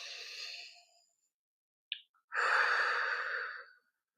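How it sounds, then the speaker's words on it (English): Two slow, deep breaths sound close and soft, an inhale and a long exhale separated by a brief pause, with a small click between them and no speech. "Just take some breaths."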